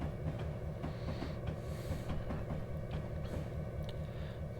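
A long freight train in Train Simulator 2 rolls downhill on the Marias Pass line, giving a steady, loud rumble of wheels on rails with faint clicking, and no voices.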